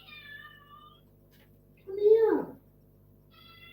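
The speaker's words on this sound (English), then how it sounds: "Don't just meow at me." A cat lets out a single clear meow partway through, close and fairly loud, with a person speaking to it briefly before and after.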